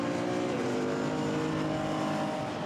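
A Chevron GT4 race car pulling out of the pit lane at Misano, a steady engine drone with a rising harmonic whine throughout, heard from trackside without any voices.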